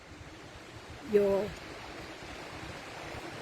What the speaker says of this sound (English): I shall just turn the phone a bit more so that you can enjoy the ocean